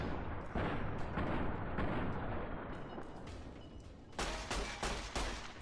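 Gunfire in the game Fallout: New Vegas, a rapid string of sharp booming shots and blasts in bursts, loud and close, ending with several heavy cracks in quick succession.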